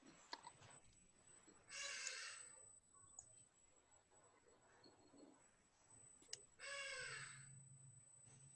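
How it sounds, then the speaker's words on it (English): A bird caws outside a house in two loud, harsh bursts of rapid repeated calls several seconds apart, over a quiet room with a faint steady high whine. "Somebody just kill that fucking bird"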